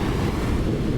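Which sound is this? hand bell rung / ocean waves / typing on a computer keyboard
ocean waves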